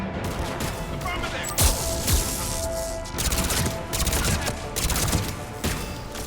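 Mass Effect 3 firefight with rapid bursts of gunfire and sharp shot impacts cracking repeatedly over a dense battle din, some louder near blasts among them, and a voice talking underneath.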